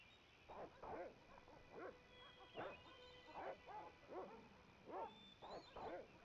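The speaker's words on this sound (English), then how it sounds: "Now that I've got the attention of the dogs?" Dogs in the 1996 video game Broken Sword bark and yip in a rapid run of short, repeated bursts, fairly close and moderately loud, with no talk over them.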